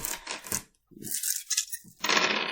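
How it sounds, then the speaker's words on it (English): A handful of nine dice tumble and clatter onto a hard surface in two short bursts, a bright rattling close to the listener with a brief pause between throws. "Phoenix Rattlers rolling up our 9 dice."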